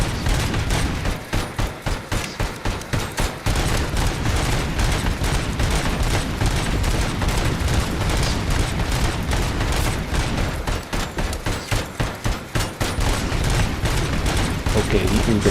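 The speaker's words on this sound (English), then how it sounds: "he can go keep on shooting at this position" Heavy, continuous gunfire in the video game Robocop: Rogue City: dense, rapid shots and bursts pile up nonstop at high volume with no pauses.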